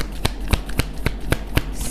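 Tarot cards are handled in a steady series of about seven short, crisp slaps, evenly spaced and close, like cards being cut or dealt one after another.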